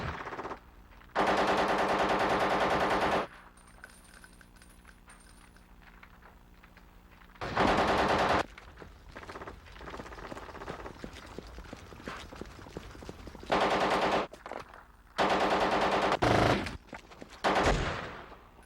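Bursts of sustained automatic gunfire in a squad-based military video game, several loud rapid-fire volleys separated by quieter stretches of ambience.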